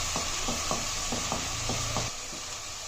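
Spices such as turmeric, red chili and coriander are stirred into sizzling paste for beef paya, giving a steady hiss with regular scraping strokes of a spoon in the pot, which ease off near the end.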